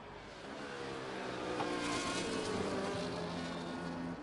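Formula 1 race cars from a video game at the Belgian Grand Prix during qualifying, a steady engine drone that swells gently and holds, heard alone without talk.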